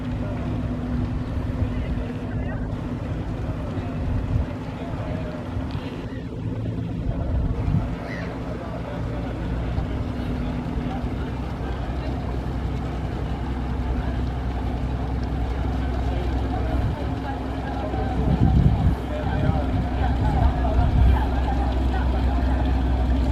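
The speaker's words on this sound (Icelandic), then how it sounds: "Þetta eldgamall bátur" A very old wooden-hulled boat built in 1937, smoking heavily as it passes through Oslo harbour, its low engine drone steady and continuous with wind and water noise, while people talk nearby.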